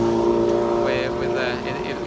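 A loud motorbike passes along a city street in Siberia, its engine droning steadily at mid distance with a brief rise in pitch as it goes by.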